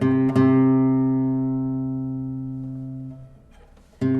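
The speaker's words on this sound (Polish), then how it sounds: "Teraz dźwięk C na strunie piątej" A single plucked C note on the fifth string of a classical guitar rings out and slowly decays over several seconds, close and clear, followed by a faint fret squeak and a second pluck.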